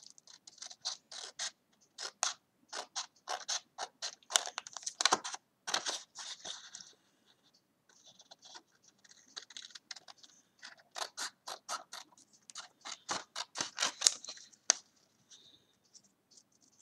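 Scissors cutting paper for a handmade Christmas notebook, close and faint, with bursts of quick snipping and crisp rustle that pause around the middle and then resume.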